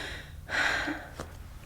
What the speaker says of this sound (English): Deep breath.